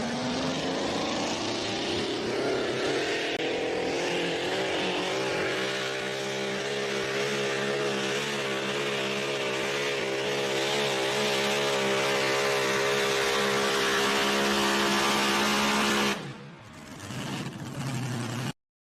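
Big pulling trucks at a Maumee Valley Pullers truck pull in Wauseon, Ohio, roar loudly and steadily under full throttle, their pitch climbing as the run goes on, then cutting off abruptly near the end.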